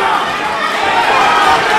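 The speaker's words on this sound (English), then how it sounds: "the crowd goes wild as Lam looks to finish strong" A crowd at a boxing match roars continuously and loudly, a dense wash of cheering and shouting with no breaks.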